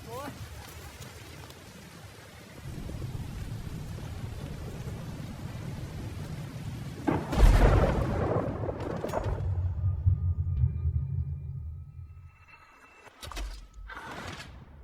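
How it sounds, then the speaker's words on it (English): Lightning strike in Red Dead Redemption 2, a loud sudden crack and rumbling thunder burst midway through steady rain and game ambience, followed by a lower rolling rumble that fades, with a few brief sharp sounds near the end. "you've never been struck by lightning"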